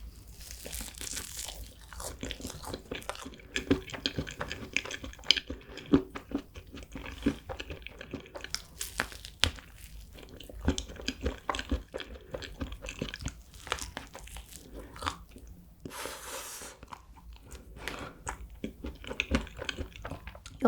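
Close, crisp chewing of a crepe roll cake filled with whipped cream, green tea almonds and green tea chocolate marshmallows, steady crunching bites and crackles running the whole time without any talk.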